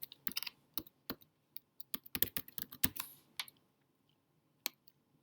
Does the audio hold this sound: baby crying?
no